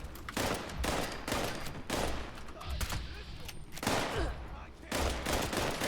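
Video game gunfire in sustained rapid bursts, dense and loud, with short gaps between volleys and no speech over it.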